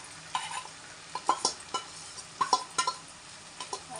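Mutton mixed with cumin, coriander powder, turmeric, chili, ginger and garlic goes into a pan for mutton gongura, heard as soft sizzling with scattered scrapes and clinks of a spoon stirring against the pan.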